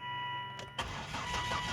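A Volvo XC70 with a freshly replaced timing belt and rewired harness cranks briefly and fires up, then settles into a steady, rumbling idle, heard close by with no one talking.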